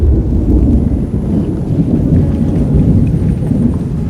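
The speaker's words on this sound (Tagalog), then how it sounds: "Ayaw tumigil ng kulog." Continuous low rumbling thunder rolls through a tropical storm with steady rain, loud and unbroken for several seconds with no speech.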